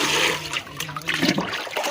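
A thin stream of water trickling into a bucket during a power cut, a close continuous splashing and gurgling that swells and fades unevenly.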